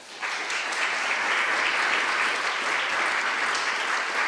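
An audience at an evening lecture on the Eucharist and social justice applauds to welcome the speaker, a dense, steady wash of clapping that starts abruptly and holds evenly throughout.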